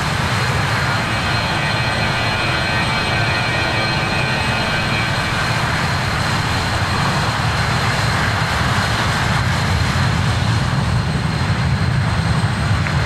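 A British Airways RJ airliner in flight in Microsoft Flight Simulator 2020 gives a loud, steady engine roar and broad rushing hum that holds unchanged throughout.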